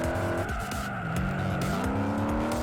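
A car in the racing game Juiced, driven without a turbo, holds a loud steady engine drone with shifting pitch and tyre squeal layered through the whole stretch.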